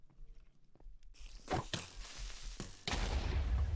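A few sharp bursts and crunching impacts build to a loud booming explosion near the end, game-like and fairly close, from the video game Sky Bees 2.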